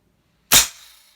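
A single sharp crack from an AEA Terminator Gen 2 .357 PCP air rifle, loud and close, with a short fading tail and no talking.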